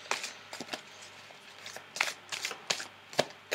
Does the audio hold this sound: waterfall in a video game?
no